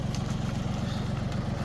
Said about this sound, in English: It's only about a 2-ton tractor with a backhoe on it